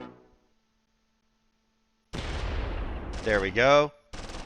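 Gunfire from tanks and infantry in the Close Combat III war game, German forces in a counter-attack at Kharkov: after a quiet pause, a burst of loud, sharp shots and rumbling blasts, with someone briefly speaking over the firing.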